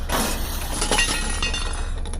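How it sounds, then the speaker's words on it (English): A glass mirror cracks and shatters in a dense burst of breaking glass, bright tinkling fragments spreading across the whole short span with no voices. "The glass of the mirror started to crack"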